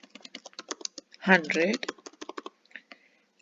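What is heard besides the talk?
typing on a computer keyboard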